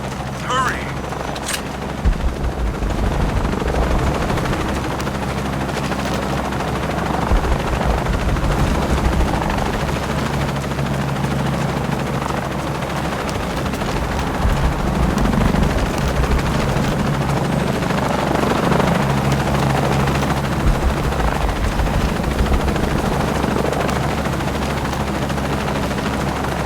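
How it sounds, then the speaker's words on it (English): A helicopter flies close by in the video game Shadow of the Tomb Raider, and its steady rotor and engine roar fills the whole scene with scattered gunfire and voices over it. "Lara, I'm in a chopper."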